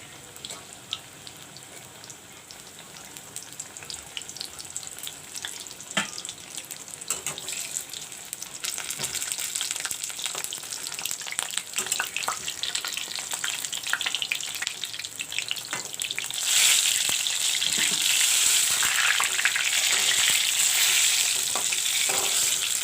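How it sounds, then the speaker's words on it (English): Batter-coated brinjal slices, Bagun Bora, frying in hot oil, with a steady crackling sizzle that grows louder and denser partway through, broken by occasional clinks and scrapes, with no voices. "Oil is turned hot. Now I'll put in the brinjals."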